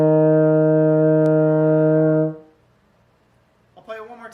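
Euphonium sounding a held E flat on the first valve alone, one steady, rich sustained tone lasting a couple of seconds, then a quiet gap before a voice starts speaking.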